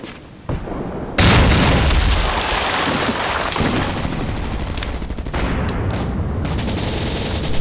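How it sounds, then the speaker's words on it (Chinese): Heavy artillery bombardment and gunfire in a war drama set by the Xiang River, a dense, loud roar of booms and crackling shots after a brief quieter start, continuous and overwhelming. "炮击减弱。"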